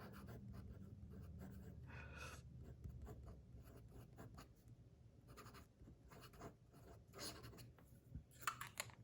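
A fountain pen fitted with a Predator Extreme nib scratches and rubs across paper in quiet bursts of writing strokes, close up and faint, with brief pauses between lines and no talk.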